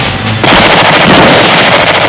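Gunfire from Ortega's men in an action movie roars as sustained, loud automatic bursts that fill the whole moment and then cut off abruptly.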